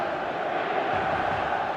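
A dense stadium crowd roars steadily in the football game PES Mobile, a loud, unbroken wash of massed voices and cheering with no single voice standing out.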